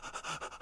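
A voice actor imitates a dog panting out of breath: quick, breathy rhythmic huffs, about five pulses in under a second, close and fairly loud with no other sound.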